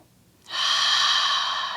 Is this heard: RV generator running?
no